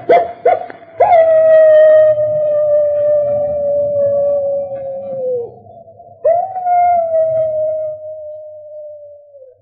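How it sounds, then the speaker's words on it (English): A wolf dog howls in a radio drama sound effect, one long, loud, wavering cry that sinks in pitch, breaks off, then rises into a second sustained howl, alone with no voices. "that howl is... It's the wolf dog."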